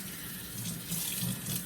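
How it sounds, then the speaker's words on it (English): Water runs steadily from a tap while orchids are being washed with soap, a continuous splashing hiss that swells a little now and then, close by with no talk. "I just wash my orchids with soap and water"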